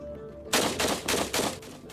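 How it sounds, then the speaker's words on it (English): Test firing of a gun held as evidence exhibit number 40-112: four loud, sharp reports in quick succession, spaced roughly a quarter second apart, each with a short echoing tail. "We test firing evidence exhibit number 40-112"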